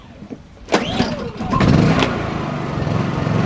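A small propane-converted portable generator being cranked, catching with a sharp start, then settling into a steady, fairly quiet engine hum close by.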